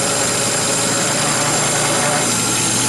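Milling machine cutting a knife blank with slight chatter at one end, a dense steady high-pitched cutting whine and hiss, loud and continuous, with a voice talking over it.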